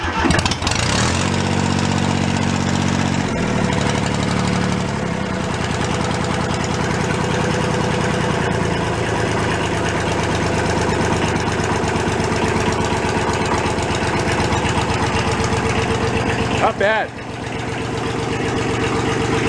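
A thrashed Kubota diesel tractor engine cranks and catches, then settles into a loud, close, steady idle with a rhythmic low chug. It stumbles briefly near the end before carrying on.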